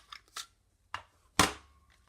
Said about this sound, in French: On va la couper avec la perforatrice fanion.